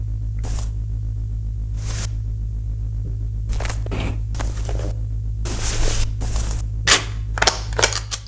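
Laser pistol fired in the sci-fi horror game Enemy Zero: a string of sharp, separate zaps, sparse at first and then quicker, over a steady low electrical hum.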